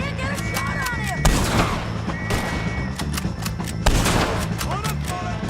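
A loud gunfight in Red Dead Redemption 2 crackles with rapid overlapping shots and heavier booming blasts over a music bed, while voices shout through the fight.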